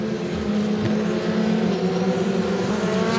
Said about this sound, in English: Safety car speeds up now